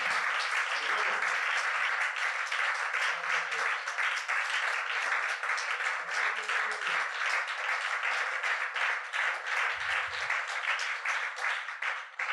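A church congregation breaks into sustained, loud applause to acclaim the King of Kings, steady dense clapping from many hands filling the hall throughout.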